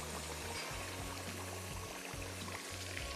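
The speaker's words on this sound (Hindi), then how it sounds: "अब थोड़ा सा पानी शामिल करेंगे" Water poured into spiced masala cooking in a pan for achari aloo kofta, a steady splashing trickle with faint gurgles, continuous and fairly quiet.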